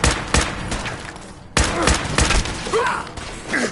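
Loud, close gunfire in Fallout 4 bursts in sharp repeated volleys with heavy thuds, a brief lull, then more rapid shots and faint in-game voices.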